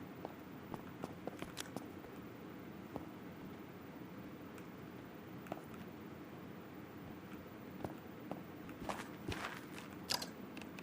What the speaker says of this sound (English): I don't like hearing footsteps.